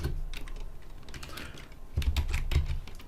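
Keys clatter on a computer keyboard as code is entered, a close, uneven run of clicks that comes in bursts with a brief lull in the middle.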